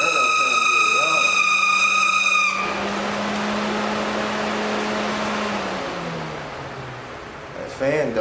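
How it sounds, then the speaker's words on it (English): Electric cooling fan on a 1989 Dodge Daytona running rough while the engine overheats, a steady whirring drone with a harsh tonal whine at first, sustained for several seconds, then easing off. "That fan don't sound good."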